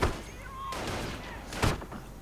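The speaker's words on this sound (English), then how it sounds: "My unit's getting torn up by that 50 caliber machine gun." A .50 caliber machine gun fires in a World War II strategy video game, with heavy thumping shots and a couple of loud impacts over constant battlefield noise and whistling shells.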